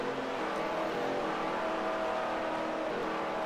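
Race car engines in the Second Life racing game drone steadily at high revs, a continuous near roar of several cars with no voices over it.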